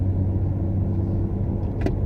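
Used car with 44,500 miles, engine running while driving; steady low rumble and road drone heard from inside the cabin, constant and fairly loud, with a brief faint click near the end.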